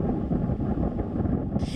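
Strong wind from the Cyclone Yaas tornado over Howrah Bridge roars and buffets the microphone in a dense, continuous rumble, with a sharp hiss surging in at the very end.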